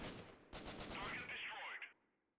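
Assault rifle gunfire in Freeman: Guerrilla Warfare, a rapid burst of shots lasting about two seconds with sharp cracks, then fading quickly, faint overall.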